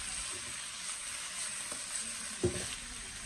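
Bitter melon and pork slices stir-fried in a wok over high heat: a steady, close sizzle with scraping stirs and a louder clatter of the spatula near the end, no talking.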